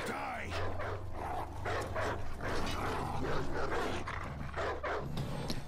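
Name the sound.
wolves or dogs in For Honor video game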